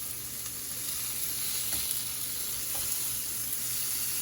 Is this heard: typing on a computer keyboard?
no